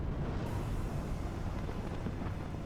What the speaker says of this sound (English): TOW2 missile going out at it